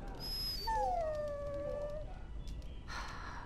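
A dog whimpers and whines in a short, high, drawn-out cry in a Dragon Age: Origins video game cutscene, fairly faint over a low background hum.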